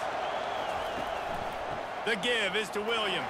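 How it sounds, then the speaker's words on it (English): Stadium crowd roar in the College Football 25 video game during Florida State vs Miami, a steady loud wash of fans under a commentator's voice that runs throughout. "This crowd trying to make life miserable for this offense."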